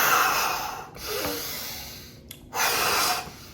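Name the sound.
heavy breathing, out through mouth, in through nose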